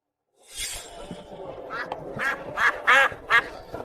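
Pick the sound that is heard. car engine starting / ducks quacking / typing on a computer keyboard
ducks quacking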